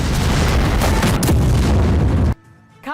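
A Russian FAB glide bomb explodes in Kharkiv. A loud, sustained, roaring blast fills the air for about two seconds, then cuts off abruptly into a much quieter tail.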